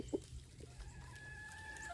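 Backyard chickens fed layer pellets and whole-kernel corn give a single short cluck, then a faint ongoing drone.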